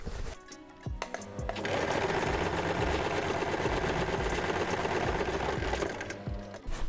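A sewing machine runs steadily, stitching the seams of a garden cushion; after a few brief starts the motor hums at a continuous, loud, close whir for about five seconds before slowing to a stop.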